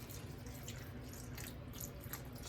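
Beef stock pours into cooked-down mushrooms in a pan for Salisbury steak gravy, a continuous soft liquid splash and trickle at low level with no talking.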